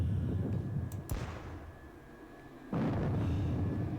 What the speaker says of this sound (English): So at this point I am going to hit them with some artillery.